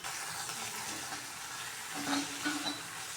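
Green chillies fry in a pan for an onion-stalk chutney, a soft continuous sizzle with faint stirring scrapes toward the end.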